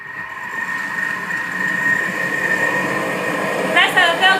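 A Thermomix blending carrot and coconut milk soup, running as a loud, steady motor whir that builds slightly, with a brief rising whine near the end.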